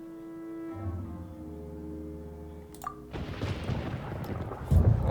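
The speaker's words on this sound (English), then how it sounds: "Paimon hears thunder!" Thunder rumbles in the Genshin Impact game world, a deep rolling boom breaking out after a sustained musical tone and swelling loud toward the end, with no voices.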